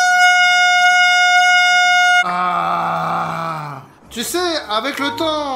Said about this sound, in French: je vais finir par m'habituer à ce klaxon